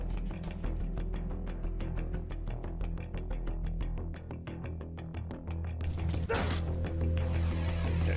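A dog barking in the video game Dustwind: Resistance, a rapid run of repeated yipping barks, loud and close, with a burst of harsher noise near the end.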